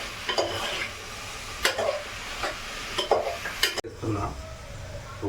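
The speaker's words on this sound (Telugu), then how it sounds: "వంకాయలు అయితే వేసేసిన ఇప్పుడు కలిపి చూద్దాం ఎట్లయితే" Brinjal curry is stirred in a pan with repeated scraping strokes of a spoon against metal over a soft sizzle, close up, at an uneven rhythm of several strokes.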